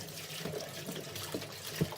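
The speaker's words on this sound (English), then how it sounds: "So I'm just pouring water" Spring water pours into a strainer of salted eggplant slices being rinsed, producing a soft, steady trickle and splash with a few low gurgles and thumps, no talk.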